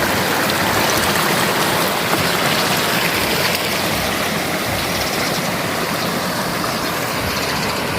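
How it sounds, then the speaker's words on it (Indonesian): Hot sulphur spring water flowing at an Aceh Besar hot spring, a steady, loud broadband rush that continues without a break, close and alone with no talk. "Ini air belerang, yang air panas nih."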